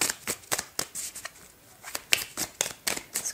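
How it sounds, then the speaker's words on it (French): Tarot cards shuffled and drawn by hand, a string of crisp, close flicks and riffles coming in irregular bursts with short pauses between them, with no talking over them. "Je vais prendre au moins une dernière carte."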